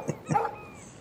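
A small dog in the video game Life is Strange gives two quick yappy barks close by, the second followed by a brief whine, then quiet.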